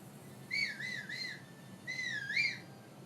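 In Zelda: Breath of the Wild, a character whistles to call a horse. Two clear, bright whistled phrases, each with a rising and falling lilt, are separated by a short pause, with no talk.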